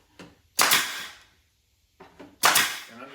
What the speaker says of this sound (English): I use a small nail gun to hold everything in place.